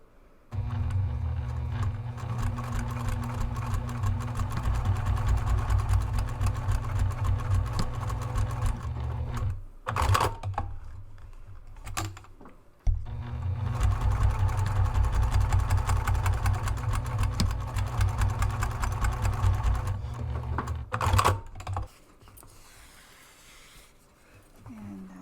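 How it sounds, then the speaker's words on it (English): A sewing machine stitches two long rows to attach a tri-glide to the end of a strap, running steadily close by for several seconds each, with a brief pause and clicks between the rows. "go ahead and run 2 rows of stitching to attach that tri-glide to the end of the strap there"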